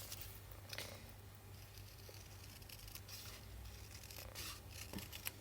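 Zigzag-edged craft scissors cut through paper in a quiet room, giving faint, scattered crisp snips and rustles with small gaps between cuts.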